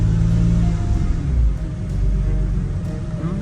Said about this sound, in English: That sounds like Power steering pump.